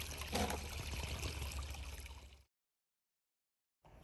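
Water running as apricots are washed outdoors, a steady trickling splash that cuts off abruptly into silence, then resumes briefly at the end.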